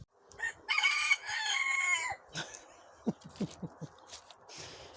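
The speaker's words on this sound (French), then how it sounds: "c'est le coq qui chante du coup" A rooster crows outdoors, its long harmonic call drawn out for over a second, followed by a run of short, softer clucks and scattered chicken noises nearby.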